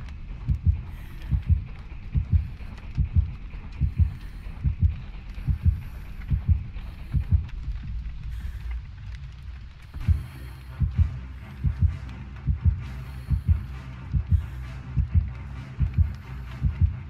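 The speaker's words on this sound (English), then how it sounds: "I will show an example here of the heartbeat cutting out suddenly because of Monitor" The Doctor's terror-radius heartbeat in the Dead by Daylight video game, a loud, steady double thump that cuts out suddenly, falls briefly quiet, then thumps again with a low hum behind it.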